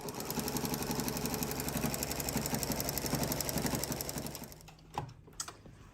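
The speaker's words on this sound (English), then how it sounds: "This is my sister Shannon, sewing the Shannon fabric." A domestic sewing machine stitches soft Minky quilt fabric with a steady, fast mechanical whir and rhythmic needle chatter close by, then slows and stops, followed by a couple of faint clicks.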